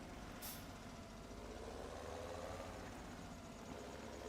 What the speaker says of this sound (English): we'll just have to keep compacting this last little bit that we have by driving over it like this with our big heavy tractor